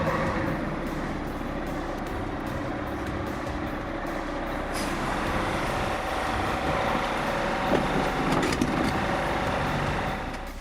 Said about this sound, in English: A Caterpillar 345D on a Newtboom 2 4-axle low loader, the ideal way to drop the ride height and balance the load.